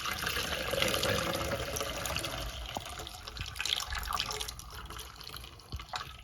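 Water poured through a funnel into the reservoir of a Nespresso Inissia coffee machine during descaling with white vinegar, a steady trickling splash with a few small drips, fairly quiet and close.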